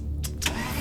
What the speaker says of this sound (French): La voiture démarre